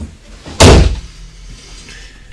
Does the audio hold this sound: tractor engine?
no